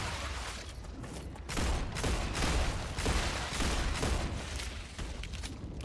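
Video game gunfire: rapid bursts of shots in loose clusters, fairly loud and dense over a constant rumbling background, continuing through the whole stretch.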